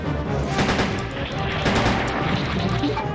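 Rapid gunfire from Resident Evil 2, dense continuous shots at steady loud volume with a sustained rumbling bed, sounding like an automatic weapon firing nonstop.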